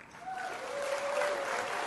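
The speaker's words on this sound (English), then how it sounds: "Please give him a big round of applause." Applause from an audience after a lecture, soft and somewhat distant at first, then swelling into steady clapping, with a faint voice briefly audible.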